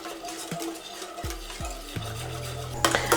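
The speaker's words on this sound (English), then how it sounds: "add in the milk and continue mixing while heating the sauce until it starts to thicken" A lasagna sauce with milk is stirred in a pan while heating, with a soft, low simmering sizzle, a few knocks of the spoon against the pot, and a brief scrape near the end, without talking.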